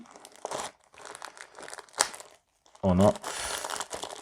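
A thin plastic resealable mail bag crinkles and rustles in several bursts as it is pulled open, close and fairly loud, with a brief spoken comment in between.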